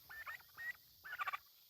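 Farm turkeys calling with short, bright yelping and gobbling bursts, a few spaced calls then a quick rapid cluster, fairly close with no talk.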